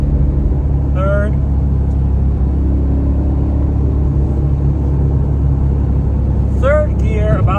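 Porsche 911 engine held at about 4,000 RPM in third gear, a steady loud droning rumble throughout with a couple of short higher squeals over it.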